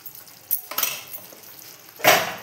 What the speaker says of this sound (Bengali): এবার আবার মিক্স আপ করবো